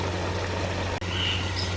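Water from roughly 80% cooked boiled rice being drained through a strainer while making lemon dahi chicken biryani, a short, faint, steady pouring trickle with no talk.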